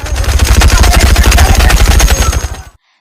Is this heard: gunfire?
yes